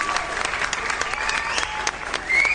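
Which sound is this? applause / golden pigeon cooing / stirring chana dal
applause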